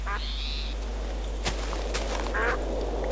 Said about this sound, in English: There's a duck here, which is basically like I think it drops chicken.